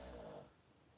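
Huggins, a pug, gives a single close, low, rumbling snore with a nasal snort quality. It fades out within half a second and leaves near silence.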